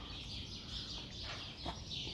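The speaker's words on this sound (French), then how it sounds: "avec les oiseaux qui chantent" Birds sing in a quiet street, their faint chirps and calls drifting over a soft, steady outdoor background.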